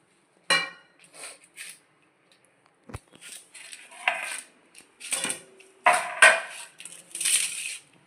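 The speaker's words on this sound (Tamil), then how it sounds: "இப்போ எங்கள் அம்மா சீவி காமிக்கிறாங்க பார்த்தீங்களா?" A knife scrapes the skin off a mudavattukal root for soup in a series of short, separated scraping strokes with faint metallic clinks, close and fairly clear, with no talking.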